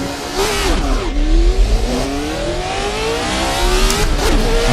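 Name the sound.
classic sports car accelerating at race start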